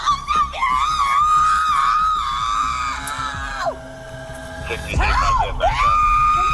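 A woman screams loudly and repeatedly during an arrest, with long, wavering high-pitched shrieks that break off and start again, and a voice briefly speaks over radio-like chatter.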